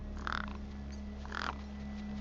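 Gang birds cawing over a corpse in the video game Beyond a Steel Sky, two rough, croaking calls spaced about a second apart, mid-distance, over a steady low electronic hum with no talking.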